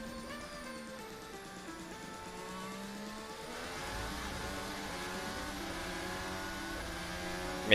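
A Mercedes W11 Formula 1 car howls through a corner at speed, its high-revving engine note rising and shifting steadily and growing louder toward the end, with no talk.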